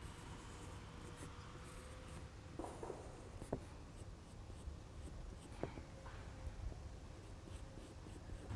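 Pencil strokes scratching across paper while fountains are sketched in detail for a landscape drawing, a soft, steady rasp with a few sharper marks and taps, close and alone.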